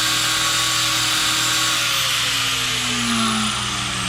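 A power tool grinds a small groove into a Mazda Miata steering rack, producing a steady, loud high-pitched whine with a slowly shifting tone that runs without a break.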